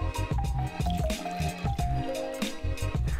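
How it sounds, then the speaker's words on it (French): Hot water poured into a bowl with borax for a craft project, with dripping, splashing and filling sounds in quick uneven bursts, near and moderately loud, while music plays underneath. "Dans un bol, verse de l'eau chaude et du tétraborate de sodium décahydraté."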